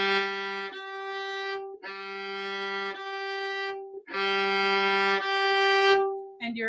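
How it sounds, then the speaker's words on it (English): Violin harmonic on the G string, a pure, thin sustained tone bowed alone in several separate strokes with brief gaps between them, moderately quiet and close. "Your harmonic on the G string sounds like this."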